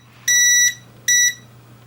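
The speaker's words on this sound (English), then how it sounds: "we get an audible alarm of the temperature increasing" A Phobya Touch 6 fan controller sounds its temperature alarm: two clean, high electronic beeps, each about half a second long with a short gap between them, over a faint steady hum.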